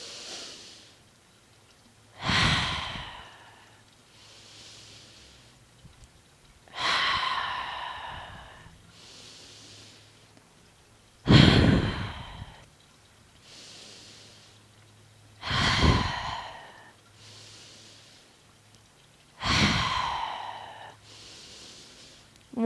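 Slow, deep breaths during a yoga flow, five long inhale-exhale cycles spaced about four seconds apart, each a loud airy rush that fades into a softer exhale, close and unaccompanied by speech.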